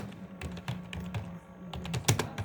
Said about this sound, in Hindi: अब टाइपिंग होना स्टार्ट हो चुका है।